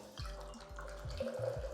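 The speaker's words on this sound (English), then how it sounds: "swing all the way over and start pouring into this shaker" Kraken rum and Campari poured from two bottles at once into a cocktail shaker, a steady liquid splash with faint dripping, close and moderately loud throughout.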